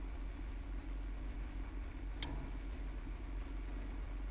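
A damaged tank engine idles in the Sprocket tank-design game, a low, steady rumble with one sharp click partway through, and no talking.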